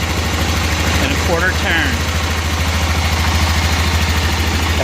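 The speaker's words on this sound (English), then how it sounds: "We'll run it in until you hear the engine labor" A 1988 Club Car golf cart engine idles steadily with a low, even throbbing pulse throughout, while someone talks close by over it.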